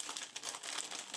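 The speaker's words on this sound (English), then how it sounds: "we are going to open this bag" A plastic bag holding the parts of an ICM 1/48 MiG-25BM model kit is opened, giving a close, continuous crinkling and rustling with quick crackly bursts throughout.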